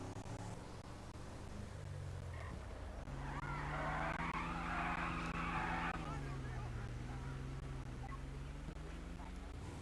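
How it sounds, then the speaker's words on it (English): A car stopped in the middle of a street spins its tires, a loud screeching skid swelling for a few seconds over a steady engine drone, with faint talk underneath. "This vehicle right in front of us just stopped in the middle of the street and spun their tires for no reason"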